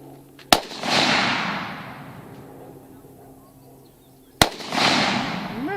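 Two loud, sharp rifle gunshots at an outdoor shooting range during a training class, a few seconds apart, each with a long rolling echo that dies away slowly.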